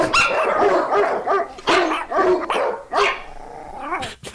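A dog barks and growls in a podcast jingle, with rapid, close, loud barks that run into a growl near the end.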